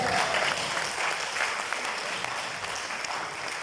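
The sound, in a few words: applause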